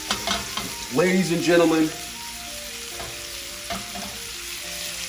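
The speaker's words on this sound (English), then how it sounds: "Look at it simmering. Look at it sitting in the butter" Steak sizzling in melted butter in a hot pan, a constant close crackle and hiss running throughout while someone talks loudly over it in short bursts.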